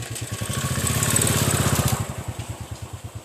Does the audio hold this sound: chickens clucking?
no